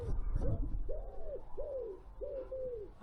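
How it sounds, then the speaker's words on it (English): A pigeon coos in a repeating series of three soft, rounded calls, fairly close, over a low background rumble with a brief scuffle at the start. "The pigeon's chatting me up."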